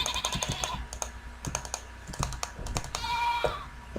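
Bleats from a goat in a video game break through a busy stream of keyboard clicks and game effects, with a sustained cry near the end standing out over the typing.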